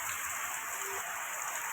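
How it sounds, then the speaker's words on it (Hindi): Steady rain falling on surfaces, a dense continuous hiss of drops at moderate volume, getting somewhat heavier, with no voices. "तो देखो आज माने एते दिन पर आज टिके होउची वर्षा टिके जोर होउची"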